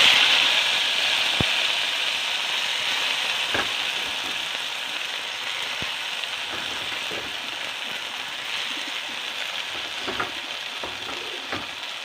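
Chopped lofa (mallow) greens fry in a pan, a constant close sizzle with occasional clicks and scrapes of stirring throughout, no talking.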